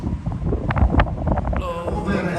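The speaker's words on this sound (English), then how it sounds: "Over 50 knots of wind outside" Strong wind of over 50 knots roars past the open deck of the Sky Princess cruise ship, buffeting the microphone in loud, gusty rumbles, with a voice partly audible underneath.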